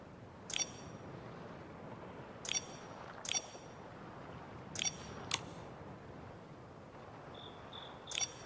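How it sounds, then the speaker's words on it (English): Star bell twinkling as it is shaken in the video game Infinity Nikki on PS5: bright, high chiming bursts in short clusters, about five spaced across the moment over a low ambient bed. "Nikki, it looks like the star bell is twinkling."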